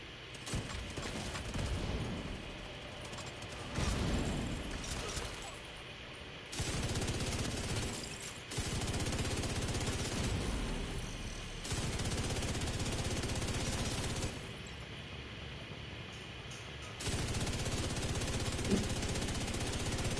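Long bursts of rapid automatic fire from a purple-rarity gun with boosted fire rate in Division 2, loud and close, broken by short pauses between sprays.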